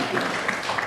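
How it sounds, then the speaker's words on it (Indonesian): Students clapping for their classmates in an Indonesian classroom lesson on elastic objects, a steady dense wash of applause throughout, close and fairly loud. "Berikan aplaus untuk teman-teman"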